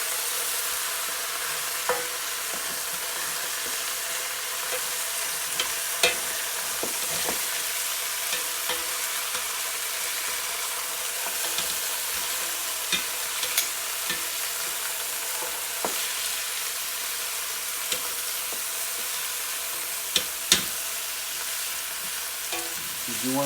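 Lamb shanks sizzle and fry steadily in a hot pan, with occasional clicks and scrapes of stirring and turning, close and continuous with no talking.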